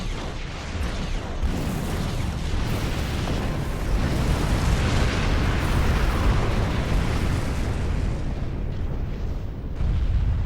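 A facility blowing up in the Star Trek Online game, a sustained loud rumbling explosion roaring steadily for around ten seconds with dense low booming and crackling debris, no voices.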